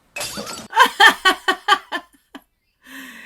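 A mug smashed on the floor in the movie Thor, with a sharp shattering burst of ceramic followed by a string of rhythmic laughs that taper off into silence, then a short stretch of voice.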